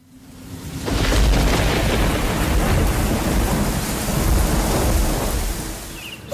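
A loud thunderstorm with steady heavy rain and rolling thunder that swells and rumbles throughout, close and continuous, with no voices.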